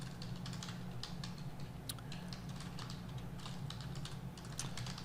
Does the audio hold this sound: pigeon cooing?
no